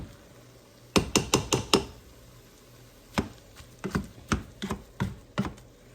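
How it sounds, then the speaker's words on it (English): Potato chunks being mashed in a pot of bacon potato clam chowder, heard as two bursts of sharp, close knocks, a quick run of five and then a looser scatter of about eight, with no talk. "I'm just going to go for mashing the bigger ones right at this point"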